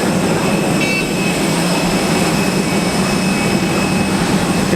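A passenger jet's engines roar loudly and steadily on a landing approach, a dense continuous broadband rumble with faint high tones, unbroken throughout.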